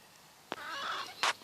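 Chickens in a backyard chicken yard give two brief, sharp clucking squawks about a second apart over an otherwise quiet background.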